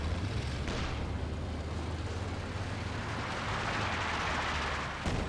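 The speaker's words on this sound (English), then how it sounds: "Panzerwerfer Barrage gets some damage to the 6-pounder" Panzerwerfer rocket barrage explosions from the Company of Heroes 2 strategy game, a continuous dense roar of rumbling blasts and bursts, loud and sustained, with a sharper impact near the end.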